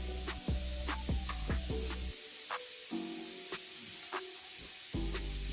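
Pineapple pork on a grill: repeated loud hissing sizzles burst in close succession, each flaring and fading as the meat is moved or pressed, with short quiet gaps between.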